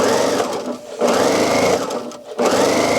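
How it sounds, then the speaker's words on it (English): A sewing machine runs an edge stitch along fabric for a gift bag made from fat quarters, loud and close, with steady whirring bursts that pause and restart twice. "So I'm just basically doing an edge stitch here."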